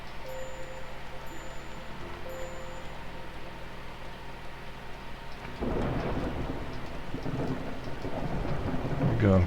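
Thunderstorm with rain in American Truck Simulator: a steady hiss of rainfall, then a loud rolling thunder crash about halfway through that keeps rumbling to the end, with no talking.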